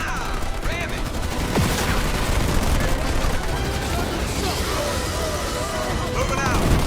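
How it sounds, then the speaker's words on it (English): Sustained gunfire from ground troops in a Halo Wars battle rattles on without a break, dense and loud, with explosions and battle noise mixed in and voices speaking over the din. "I'm under fire from ground troops"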